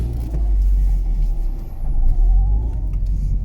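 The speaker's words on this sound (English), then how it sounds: "So we're just taking it for a drive" A car out on a test drive rumbles loudly from inside the cabin, its engine drone and road noise steady and low, swelling slightly midway with a faint whine from the drivetrain.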